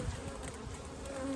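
Honey bees swarm around an opened hive, a soft, steady buzzing hum from many insects close by with no voices.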